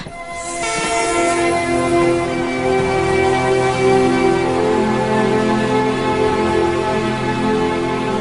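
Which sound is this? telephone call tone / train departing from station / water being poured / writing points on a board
train departing from station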